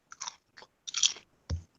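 A potato chip is bitten and chewed close to the mic, giving a few short, crisp crunches with a final louder bite, surrounded by silence.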